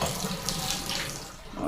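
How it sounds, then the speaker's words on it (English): Water gushing from a tub shower trim fixture with a handheld sprayer after the diverter is engaged, a steady close rushing hiss with no voices. "now I'm going to turn the water on and hit the diverter"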